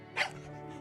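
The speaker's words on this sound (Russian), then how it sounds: "Услышав мой голос, собака тявкнула" A small dog in the visual novel game Tiny Bunny gives a single short, sharp yap, quick and fairly faint against a quiet background.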